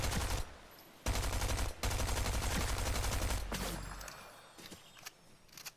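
Dense, loud bursts of automatic gunfire in Fortnite Zero Build, several sustained volleys broken by brief gaps, with shots coming from more than one direction and footsteps faintly beneath.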